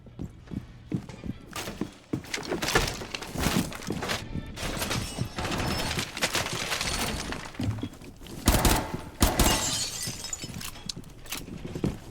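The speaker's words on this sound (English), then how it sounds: "They are going through breaking the glass on the windows." Glass windows shatter repeatedly in a video game, bursts of crashing and breaking glass piling up densely, loud and busy with overlapping impacts and clatter.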